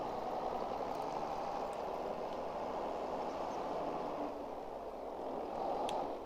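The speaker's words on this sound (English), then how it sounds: "it's an older, let's see, kind of a 90s style Fendt tractor" A 90s-style Fendt tractor pulling a large K-brand shallow cultivator in Farming Simulator 22, a steady, even engine drone that holds at one level throughout, with no talk.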